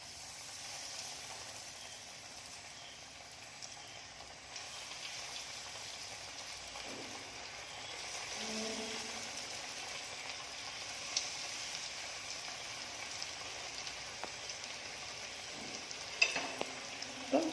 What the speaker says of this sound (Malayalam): എണ്ണ നന്നായി ചൂടായി വന്നിട്ടുണ്ട്. നമുക്ക് ഓരോ റോൾ ഇതിലോട്ടേക്ക് ഇട്ട് കൊടുക്കാം.